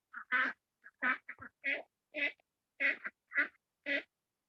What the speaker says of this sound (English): You hear those ducks?